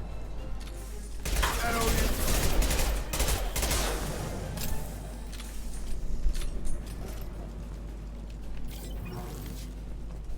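Rapid bursts of gunfire from an impact shot in Mass Effect 2, dense and loud over a busy background of game effects, with the shots thickest in the first few seconds before easing into a steadier combat din.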